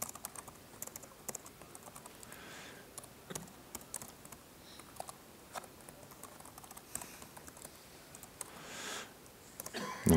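Steady, close keyboard typing while entering Java code, a run of light, uneven clicks and taps with small pauses, quiet and unaccompanied by speech.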